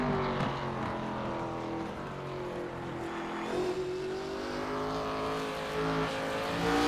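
Race car engines in the racing game SuperStar ARCA Cup Series at Myrtle Beach, a steady, droning whine with rising and falling engine pitch as cars lap the track, fairly close and continuous.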